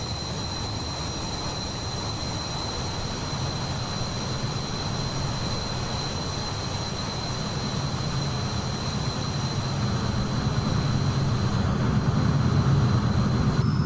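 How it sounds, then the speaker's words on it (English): A Carenado Beechcraft B390 Premier IA jet in flight in Microsoft Flight Simulator 2024 gives a constant, loud engine drone with a thin steady whine, swelling slightly toward the end, with no talk. "I love the little jet though."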